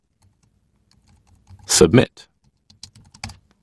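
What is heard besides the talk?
typing code on a computer keyboard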